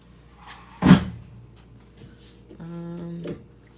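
A gray boiler room door in a run-down apartment opens with one sharp, loud knock or latch thump, followed a moment later by a short, steady tonal creak or hum.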